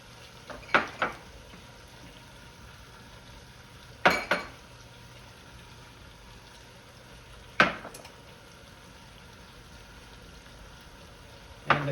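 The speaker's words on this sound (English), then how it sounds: "We'll take all these right here and dump them in, one by one." Spices tipped into a cooking pot one after another, each landing as a short clinking, rattling burst with a few seconds of quiet simmering between them, four drops in all.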